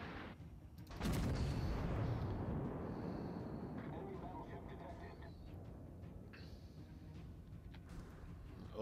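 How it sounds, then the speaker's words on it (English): Warship front guns fire in World of Warships, a deep booming blast followed by a long rolling rumble that decays over several seconds, with faint game ambience. "Front guns are ready."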